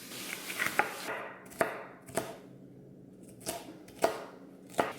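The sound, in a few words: food chopper chopping vegetables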